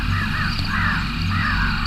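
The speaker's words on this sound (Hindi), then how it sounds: "ऊपर से काले कौए" Black crows cawing, several harsh repeated caws close by, loud over a steady background hum, with no talk.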